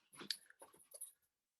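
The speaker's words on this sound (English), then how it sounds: "an Australian Shepherd puppy just came in and ran around my room" An Australian Shepherd puppy dashing around a room: a brief, faint flurry of jingling collar tags and light scrabbling paws, then quiet.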